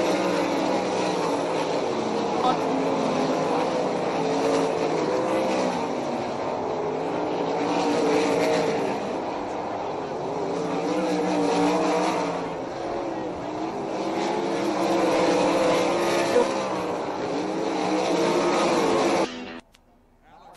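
Dirt track race cars roar around the oval as a pack, a loud, continuous engine drone swelling and fading as they pass, then cutting off abruptly at the end.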